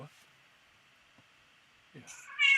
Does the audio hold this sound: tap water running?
no